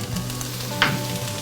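Tomato paste sizzles and fries in a hot pan alongside a spezzatino stew base, a steady close crackle with a brief stirring scrape partway through.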